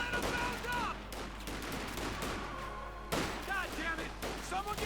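Bursts of gunfire and MG42 machine-gun shots in Company of Heroes 2, a 1v1 match with Grenadier squads, rattling steadily under battle noise with a louder volley breaking out partway through, while a commentator talks throughout.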